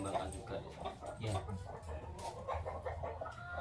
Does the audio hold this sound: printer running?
no